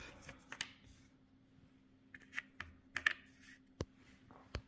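Cardboard bonus tiles from The Gallerist board game flipped over one by one on a table, a scattered run of soft, crisp clicks and taps against quiet background.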